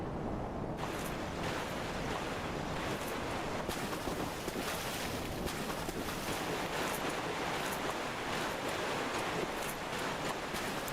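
Gentle water and surf ambience in the video game Dark Souls III, a constant, even broadband wash that barely rises or falls, with no voices.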